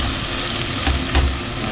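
Whole spices, a bay leaf, cardamom pods and a small cinnamon stick, sizzle in hot oil in a pan for chicken biryani, a steady close frying crackle with a couple of soft knocks.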